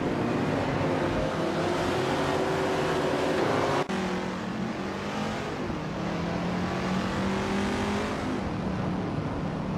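Vintage street cars race around a track, their engines roaring in a loud, continuous drone with shifting revs and one brief break near the middle.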